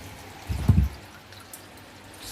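Water rushes into the sump of a D-D Reef Pro 900 aquarium during filling: a short, low gurgling splash lasting under half a second, then a faint steady hiss.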